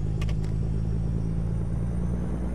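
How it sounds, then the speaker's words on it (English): A semi-truck engine in American Truck Simulator strains with a steady, heavy low rumble, close and continuous for a couple of seconds, with a few faint clicks near the start. "this truck seems to be struggling"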